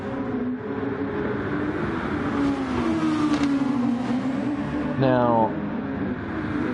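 A race car engine in a racing video game whines steadily under excited commentary, with a quick rising rev burst near the end.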